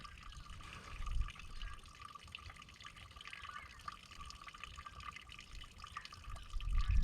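Pre-mixed antifreeze poured into the radiator of an Allis Chalmers WD tractor, a faint trickling liquid stream with soft dripping and splashes, quiet and continuous, with a few louder bumps near the start and end.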